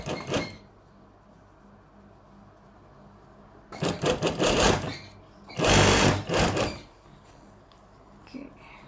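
Sewing machine stitching along fabric for a baby nest in two loud, sustained bursts, separated by quieter stretches with faint background voices.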